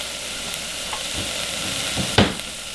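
Butter and flour cooking into a roux in a soup pot make a steady, soft sizzle and hiss, with a few faint scrapes of stirring and a brief louder clatter near the end.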